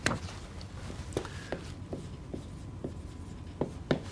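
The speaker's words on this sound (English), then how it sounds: "and now let's write the theorem." Chalk tapping and scraping on a board while a theorem is written out in a lecture, with sharp clicks at an irregular pace over a low room hum, close and fairly quiet.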